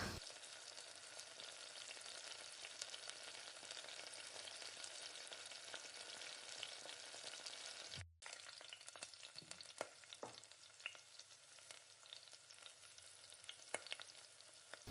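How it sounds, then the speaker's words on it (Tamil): Onion, curry leaves and green and red chillies tempering in hot oil in a kadai for a cabbage poriyal, a loud steady sizzle and crackle with a brief break midway, then stirring scrapes and pops. "அதே கடாயில் இப்போ நல்லா தாளிப்பு கொடுத்துக்கலாம்"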